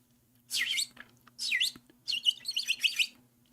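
A bird chirping close by in several bright bursts of rapid, high twittering notes, with short pauses between them and a faint low hum underneath and no talking.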